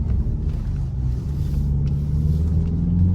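Steady low engine and road rumble from inside a Ford Focus cruising at around 100 km/h, a continuous loud drone with no breaks.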